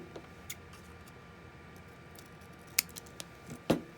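Scissors snip through material during a rebuild of a Toshiba hibernation battery, a few crisp cuts near the end standing out over a quiet background.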